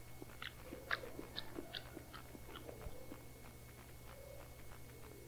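A preacher imitates chewing gum with his mouth, a quiet, close run of soft wet smacking and crunching clicks in a steady loose rhythm, heard over faint background hum.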